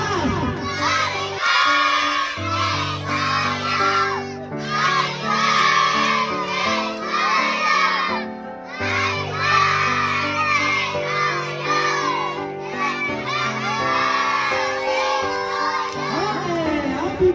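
Group of children singing happy birthday in unison at a family birthday party, loud and sustained with a crowd of voices carrying a melody, brief pauses between phrases.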